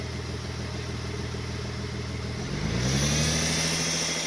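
A car engine idles steadily during a power steering check, then revs up as the gas is pressed, the pitch climbing and holding at a louder, higher drone near the end; no talking.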